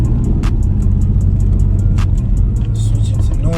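A manual car pulling away in first gear, its engine humming loud and close with a low steady drone, light clicks overhead and a rising note near the end.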